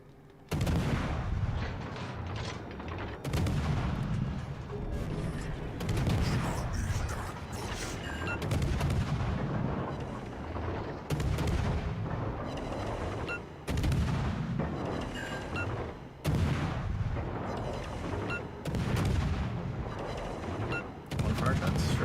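Naval gunfire from warships in the video game World of Warships: Legends, a dense run of loud, booming salvos repeating every few seconds over a continuous rumble of battle.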